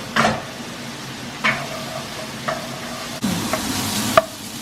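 Salmon and a spinach pastry cook in a pan, a steady soft sizzle running throughout, broken by a few sharp scrapes and stirring clatters of a utensil.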